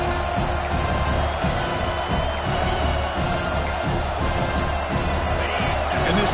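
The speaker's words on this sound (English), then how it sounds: "And this big crowd doing everything possible to inspire this defense down here near the goal line." A big stadium crowd in the College Football 26 video game roars and cheers continuously as the defense lines up near the goal line, with a commentator talking over the loud, steady noise.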